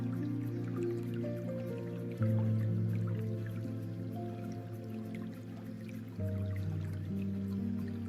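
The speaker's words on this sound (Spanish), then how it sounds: "Lo llenan de agua." Water running into a nylon-lined garden pond, a continuous trickling pour with a sustained tonal hum and slight shifts in pitch as it fills.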